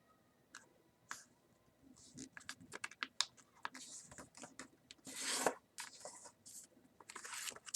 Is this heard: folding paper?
yes